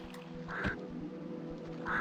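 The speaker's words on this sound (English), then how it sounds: "Goose." A waterfowl call from a Tomb Raider II game sounds twice, as short nasal honks or quacks, the second near the end, over a steady low game background.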